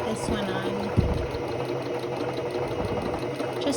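Close, continuous mechanical whir and rapid needle chatter from a sewing machine stitching fabric for a heating pad front panel, running steadily with a brief knock near the start.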